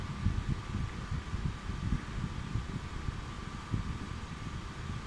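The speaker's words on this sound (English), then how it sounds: "the air conditioning unit that I've got switched on just now, which is much louder by the way" A room air conditioning unit runs steadily with a low, broadband whooshing hum and a faint constant tone, fairly quiet and unbroken, no talking.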